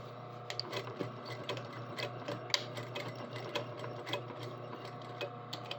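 A sewing machine runs steadily as it stitches and backtacks the bottom of a front pocket, giving a continuous mechanical whir with a fast ticking needle rhythm, close and moderately quiet with no talk.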